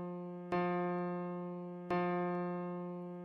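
A single sustained musical note F, played as a steady harmonic tone, is struck twice about one and a half seconds apart, each attack fading slowly and evenly, with no voices.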